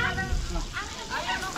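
Sliced onions sizzle steadily in a hot frying pan while a big seafood cook is prepared outdoors in Angeles, Pampanga. The sizzle is loud and close, with background voices and bustle layered over it.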